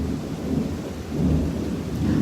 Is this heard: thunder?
yes